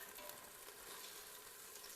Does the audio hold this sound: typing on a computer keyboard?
no